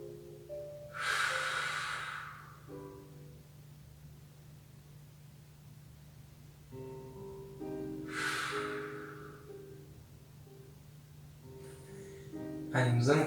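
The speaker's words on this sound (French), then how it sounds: "Soufflez profondément." Breath sounds come during a relaxation exercise before an abdominal workout, with two long deep exhales and a third shorter one. Each is a close, airy rush separated by quiet pauses, and a voice speaks between them.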